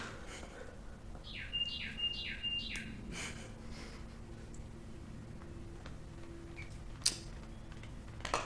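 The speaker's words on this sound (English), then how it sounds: "That bird is freaking annoying," A bird calling outdoors near a yard, a quick run of three short, bright chirps early on, then scattered fainter tweets and a single sharp tick later, all over a low steady background with no talking.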